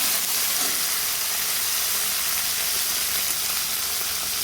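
Red chillies frying in a pan for cucumber dal give off a steady, dense sizzling hiss that stays even and close throughout, with no voices.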